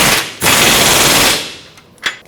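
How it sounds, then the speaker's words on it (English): Pneumatic air impact gun tightening control arm bolts on a 2009-2014 Ford F-150, one loud, close rattling burst of about a second, followed by a brief clank. "I'm going to tighten them up with the air gun"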